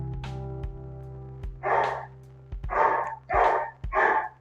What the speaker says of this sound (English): Say hi to the dog.